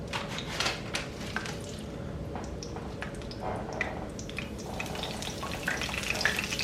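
Soft shell crab sizzling and spattering in hot frying oil, a steady crackling fry with small pops and faint clinks of tongs, close and moderately loud with no talking.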